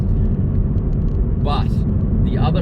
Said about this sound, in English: I have found that this car's road noise is honestly just, it's pretty,